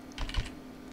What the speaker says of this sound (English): I'm going to do it on a keyboard with the P key